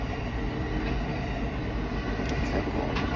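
A train rolling past with a steady, dense rumble and faint rail clatter, loud and continuous throughout with no voices.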